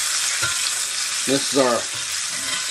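Pork chops fry in their own fat in a pan, giving a loud, steady, bright sizzle throughout, while someone speaks a few words over it.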